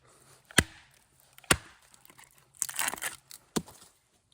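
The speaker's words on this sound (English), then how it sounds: "Splitting wood like crazy" Fiskars X7 hatchet splitting wood: three sharp, loud chopping impacts spaced about a second apart, with a crunchy tearing crackle of the wood giving way between them, close and alone.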